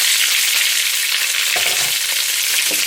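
Sausages sizzle steadily in a pot with onion and garlic, a loud continuous frying hiss with a few soft clinks and stirring scrapes near the end.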